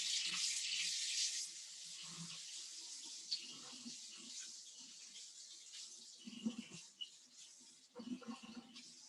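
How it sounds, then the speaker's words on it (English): Warm water runs from a sink faucet with a bright, steady hiss that softens into a lower splashing flow, continuing throughout with small clatters mixed in. "I'm going to run over to the sink and get 1/3 cup of warm water first"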